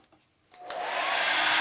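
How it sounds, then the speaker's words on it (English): A hair dryer switches on after a moment of near silence and ramps up to a loud, steady whoosh, drying wet watercolor paint up close. "We will next do the dryer again for the water."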